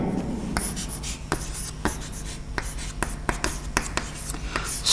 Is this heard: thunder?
no